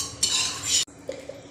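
A spoon scrapes cooled paste out of a kadhai into a blender jar: a loud, grainy scrape of metal against the pan for about half a second, a sudden stop, then a few soft clinks.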